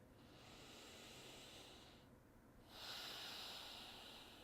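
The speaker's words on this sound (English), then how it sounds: "And breathing." Slow, audible breathing during a calming tapping exercise: a long breath in, a short pause, then a fuller hissing exhale, close and quiet with no speech.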